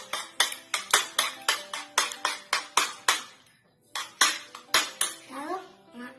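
A utensil clinks and scrapes briskly against a bowl as a seasoned egg mixture for a cheese egg bomb is stirred, with close, rhythmic strikes, a short pause, then more stirring.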